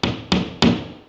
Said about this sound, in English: Now I'm just going to tap them in nicely.